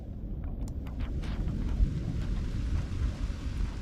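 Low, rolling thunder from a storm rumbles on for several seconds beneath a steady wash of wind and rain, with a few faint crackles early on.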